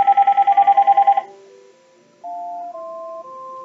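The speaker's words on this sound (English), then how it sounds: "That's my phone ringing." A mobile phone sounds a rapid warbling electronic trill, then a sequence of sustained tonal beeps at shifting pitches, clear and close with no talking.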